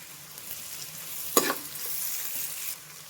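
Four slit green chillies hit hot oil in a pan for a home-style chicken fry, giving a single sharp spatter that swells into a steady, close hiss before fading out.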